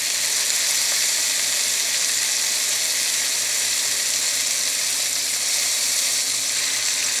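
Loud, steady, bright hiss of a smash burger patty frying on a hot griddle, continuous and close with no breaks and no talking.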